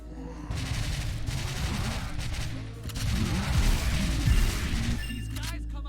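Dense bursts of gunfire from a lightgun video game during a Halloween shooting session, near and loud, with rapid overlapping shots and crashes filling the whole stretch.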